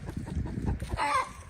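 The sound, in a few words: chickens clucking in a chicken coop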